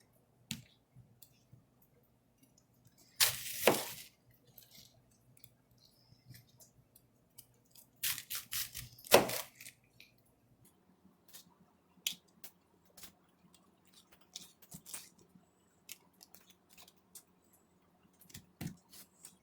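A Misen chef's knife slices through kielbasa and red cabbage on a board, giving a few crisp crunching cuts and a scatter of light taps and clicks, quiet and close, with long gaps between.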